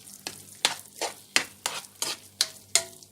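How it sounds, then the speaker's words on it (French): Mixture stirred in a pan over very low heat for Vietnamese fried beignets: a series of about nine rhythmic scraping strokes of a utensil against the pan, close and clear, with faint sizzling between them. "Voilà, je mélange sur le feu très faible"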